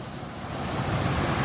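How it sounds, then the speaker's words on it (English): High Falls on the Oswegatchie River pours in a broad, steady roaring wash of water, loud and continuous with no break and no voices. "There you go, that's High Falls. This is the Oswegatchie River."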